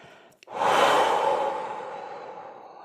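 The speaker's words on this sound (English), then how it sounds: "take a deep breath in with me and exhale out" A person takes a deep breath in and lets a long, audible exhale out, the breath swelling quickly and then fading slowly, close and alone, without talk.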